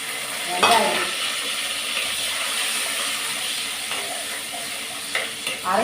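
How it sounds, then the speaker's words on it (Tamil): Ground onion sizzles in a hot pan while being stirred for a Tamil fish curry, a loud, steady frying hiss with occasional scraping stirs, close and without talk. "எல்லாத்தையும் போட்டு நல்லா வதக்கிக்கலாம்"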